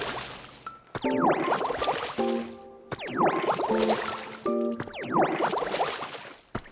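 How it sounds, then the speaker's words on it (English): Plants are watered in the video game Pokémon Pokopia, heard as three repeated bursts of squishy, splashing liquid effects. Each burst is mixed with bright chiming tones and rising sweeps and is separated from the next by short gaps. "Go ahead and water these."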